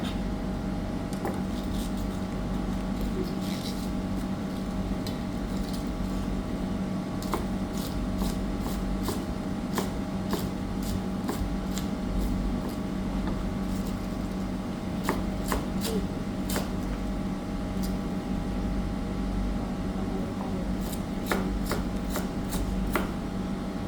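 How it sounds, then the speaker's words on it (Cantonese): A knife shreds cabbage on a cutting board in bursts of quick, crisp chops, with pauses between runs, close and clear over a steady background hum. "椰菜、切絲"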